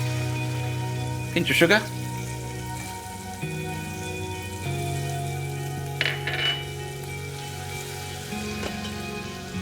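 Garlic, onion and soy sauce sizzle steadily in a pan with a loud, continuous hiss and crackle close up, while a person talks over the cooking.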